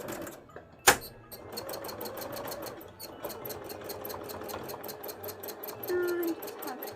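A sewing machine zigzag-stitches a fabric design with rapid, even mechanical clatter, close and steady, after a sharp knock near the start and a brief high squeak toward the end.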